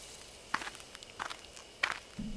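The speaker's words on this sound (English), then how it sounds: "I hear footsteps again" Footsteps approaching in the game Death Mark, a few separate crisp steps spaced irregularly, growing more prominent, with a low droning tone entering at the end.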